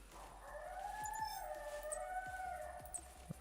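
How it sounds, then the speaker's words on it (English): Coyote howling in theHunter Classic hunting video game, a long rising and wavering howl that sounds fairly close, heard alone over faint ambient game noise with a few soft ticks. "That's a coyote."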